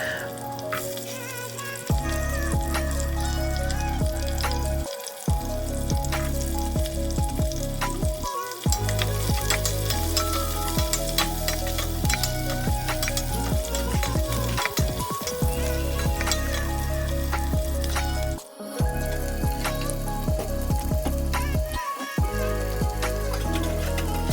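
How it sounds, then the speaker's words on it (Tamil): Mustard seeds, fenugreek, shallots, green chilli and curry leaves fry in hot oil for a fish gravy, giving a loud, steady sizzle and crackle with brief stirring gaps and occasional spatter. "கடுகு, வெந்தயம், சின்ன வெங்காயம், பச்சை மிளகாய், அதுக்கப்புறம் கருவேப்பிலை எல்லாமே போட்டு ஃப்ரை பண்ணிக்கிட்டேன்."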